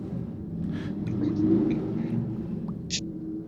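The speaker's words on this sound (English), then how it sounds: "there's like a parade of like trucks" A steady low rumble of trucks rolling past outside, continuous and muffled as if heard from indoors, with faint higher noises over the drone.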